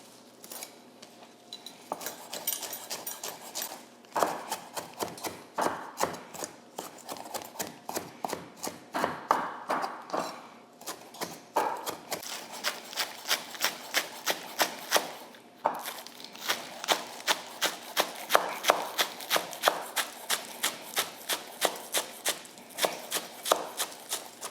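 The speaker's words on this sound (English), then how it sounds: "So this is some cilantro. And I'm gonna get this chopped." Fresh cilantro chopped with a knife on a board, heard as a long run of quick, sharp, close taps that come in rapid rhythmic bursts with short pauses, moderately loud, with no talking.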